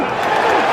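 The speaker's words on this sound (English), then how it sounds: "listen to the crowd reaction here" Baseball stadium crowd roaring in a sustained, dense wash of voices as a batter challenges a pitch, a steady loud swell with no breaks.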